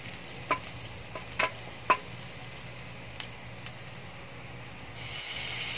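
Ingredients for ginataang langka, a Filipino jackfruit dish in coconut milk, are stirred as they fry in a pan. Several sharp utensil scrapes and taps land in the first two seconds over a low sizzle, which grows steadier toward the end.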